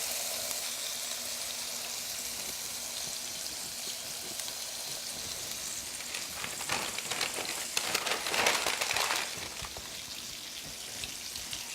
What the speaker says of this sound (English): My pan is nice and hot, so I'm going to add my chops.